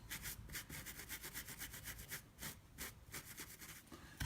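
A brush rubs back and forth across the pile of a vichy rug, making quiet rhythmic scratchy strokes, each a short bristly rasp, repeated steadily with no talking.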